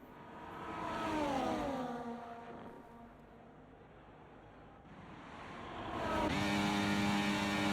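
Race car engines in a racing video game, a Mercedes chasing a Haas, rising in pitch as they accelerate, fading slightly, then surging again with a sharp revving climb near the end.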